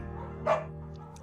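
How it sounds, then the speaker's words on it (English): A beagle in the video game Firewatch gives a single short bark, close and fairly loud, over a steady low background hum. "You pick up the beagle and she names it Bucket"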